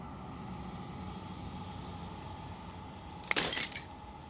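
Glass shatters in the video game Slay the Princess, a sudden bright crash with tinkling fragments that rings out briefly over a low, steady ambient drone.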